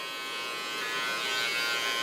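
An electric zero shaver trims contour lines around a short pixie haircut, giving a steady high buzzing hum that holds evenly and close for a couple of seconds, alone without talk.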